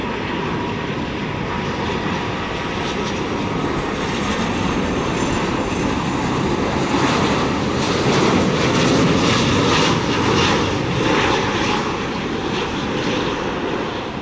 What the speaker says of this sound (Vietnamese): Còn đây là Airbus A330-300 của hãng không Vietjet Air với cái sticker Coca-Cola rất là dễ thương của mình trên thân và đang bước vào hạ cánh